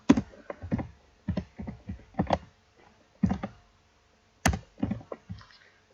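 A formula is typed on a computer keyboard in short bursts of crisp, close key clicks separated by brief pauses, with no talking.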